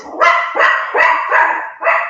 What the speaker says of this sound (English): Your attack dog didn't agree with you.